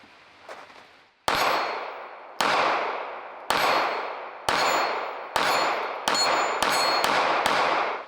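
Seven sharp, loud gunshots from a Smith & Wesson M&P Bodyguard 2.0 pistol, fired one at a time, the gaps shrinking from a steady pace to quick follow-up shots, each crack ringing out and fading; no talking.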